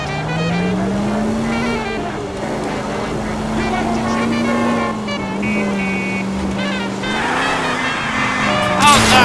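A car engine drones continuously in L.A. Noire, its pitch rising and falling with acceleration as the vehicle drives through city streets, loud and steady.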